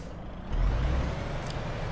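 A DAF XF Euro 6 8x4 truck in Euro Truck Simulator 2 starts up: a steady background hum jumps into a deeper, louder diesel idle that settles into a constant low rumble, with no speech.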